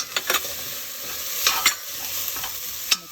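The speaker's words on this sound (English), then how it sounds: "Now put your garlic and ginger paste into it. The garlic has to go in the oil also" Garlic and ginger paste frying in hot oil in a pan, a steady bright sizzle broken by a few scraping stirs of a spoon, close and loud with no talking.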